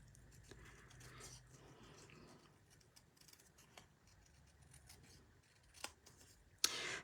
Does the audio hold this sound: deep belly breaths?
no